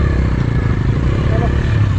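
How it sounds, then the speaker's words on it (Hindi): A motorcycle engine labors uphill on a steep mountain road in Spiti Valley, India, with a steady, close, rumbling drone and light clatter throughout. "भाई साहब चल बाइक चढ़नी ऊपर की तरफ चलो"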